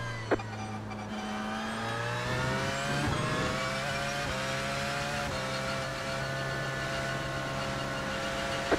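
Porsche race car engine in the iRacing game during an endurance race at Monza, a loud, close, continuous high-revving whine with rising and falling pitch as the car shifts through gears.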